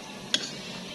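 Corn frying in hot oil makes a steady low sizzle, broken by one sharp metallic tick, like tongs tapping the pan, near the start.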